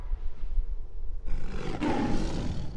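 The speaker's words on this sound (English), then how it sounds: "Sounds like a pretty stock roar to me" A video game creature lets out a stock roar, a loud rough growl that swells suddenly after a low rumbling lead-in and holds to the end.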